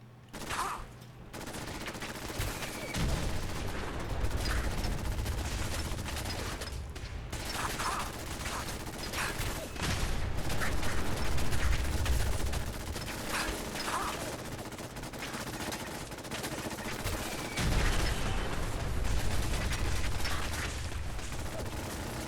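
Sustained gunfire from a weapon in Fallout 4, dense rapid volleys with mechanical clacks running almost continuously and loudly, surging in several heavier bursts.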